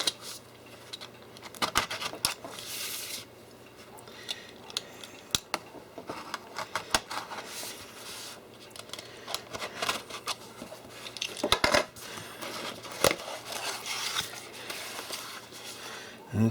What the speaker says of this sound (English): Let's open this one, serial number 1200, to show you what's inside.